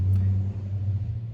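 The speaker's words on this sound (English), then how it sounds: "I'll let that truck go by." A truck driving by outdoors, a steady low engine rumble with a droning hum that holds for about a second and then begins to fade.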